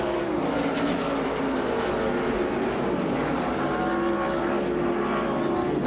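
NASCAR stock cars race at Riverside in the 1987 Budweiser 400, loud, continuous engine roar with overlapping droning tones, close and sustained.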